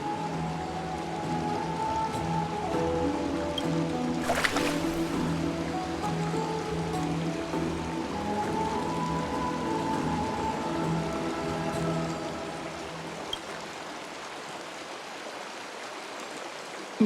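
Steady flowing water in a warm bath inside Honkai Star Rail, a continuous even rush with a brief splash partway through, close and constant with no talking.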